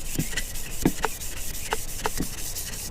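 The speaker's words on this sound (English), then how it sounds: "just sand it, scuff up the surface, which gives the primer something to stick to" Sandpaper scuffing a chrome-plated, polished strut tower brace, a few short rough rubbing strokes close up with quiet gaps between them and no talking.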